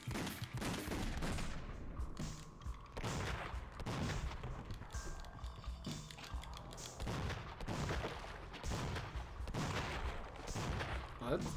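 Repeated bursts of first-person shooter gunfire with heavy recoil booms, coming in rhythmic volleys every second or two over a busy game soundscape, loud and close.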